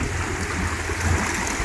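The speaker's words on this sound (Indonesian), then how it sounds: "bukan sungai besar ya, tapi lumayan dengar suara air" A small stream, not a big river, flows steadily near a villa at Situ Rawa Gede, giving a continuous, fairly loud rushing and gurgling wash with no voices.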